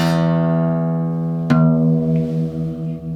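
Two guitar tones ring together for tuning, a sustained E note followed by a second plucked string that sounds against it with an audible wavering beat, clear and close with no talk.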